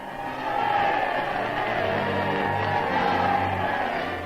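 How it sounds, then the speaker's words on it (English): A large crowd roars and cheers at the liberated Santo Tomas prison camp in Manila in 1945, welcoming General MacArthur. The sound is a loud, sustained, distant-sounding wall of voices with the muffled tone of an old newsreel. "crowds wildly welcome MacArthur and their freedom."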